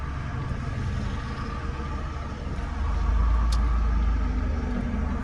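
A car goes by on a road in Elberton, Georgia, heard from inside a vehicle on a driving tour. It is a steady low engine and road rumble that swells louder in the second half, with no talking.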